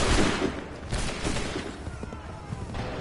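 Musket volley gunfire in Assassin's Creed III Remastered, a ragged crackling burst of many shots fired together, loud at first then rolling on through the battle din, with no talk.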